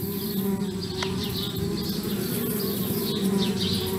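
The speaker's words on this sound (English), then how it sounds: "Darn bees, trying to move into our tree house." Bees buzzing around a tree house in the game Anna's Quest, a steady continuous insect drone with wavering higher whines drifting in and out over a low hum, no voices.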